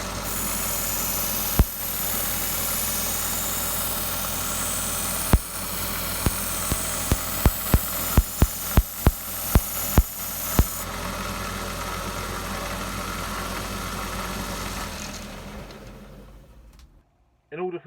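A belt sander runs steadily in a darkened workshop, its broad motor drone joined by a series of sharp crackling snaps as static sparks jump, before the machine winds down near the end.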